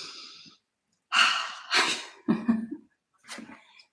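A person draws a slow breath in and lets it out in a sigh, followed by a couple more quieter breaths, close and fairly soft with nothing else around them.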